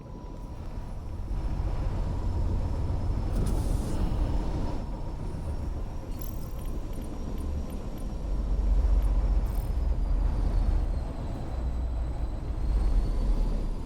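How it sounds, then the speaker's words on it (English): Evac ship descending to land in the sci-fi shooter The Cycle: Frontier, a steady loud engine roar and whine that swells midway and holds, with no talking. "now the evac ship is landing"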